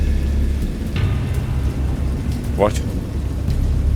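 VR horror game Dagon's thunderstorm: steady heavy rain roars continuously with low rumbling thunder underneath, loud and close, while a voice briefly speaks over it.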